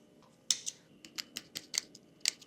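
Scissors snip through embroidery threads on a hand-stitched tatreez piece, a sharp cut followed by a quick series of small, close clicks and snips, nearby and alone.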